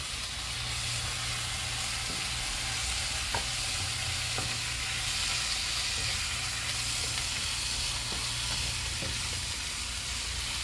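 Spices with red chili powder sizzle and fry steadily in a hot pan, a continuous loud hiss with occasional faint scrapes of stirring throughout.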